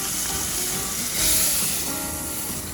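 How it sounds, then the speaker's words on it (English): A fish fillet sears in a hot pan, giving a steady, close sizzle that swells briefly midway and then settles back to a constant frying hiss. "Let's give this a beautiful sear."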